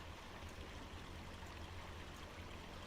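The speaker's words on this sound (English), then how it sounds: "Nice flowing water though." Steady flowing stream water in Farming Simulator 25, a soft continuous rushing wash with no breaks, faint and even throughout.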